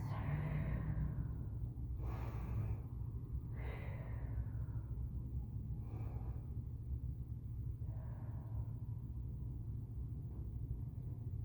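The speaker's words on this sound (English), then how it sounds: "Nice big breaths" Slow, deep yoga breaths during a vinyasa flow come as several soft, airy inhale and exhale swells spaced a couple of seconds apart over a constant low room rumble.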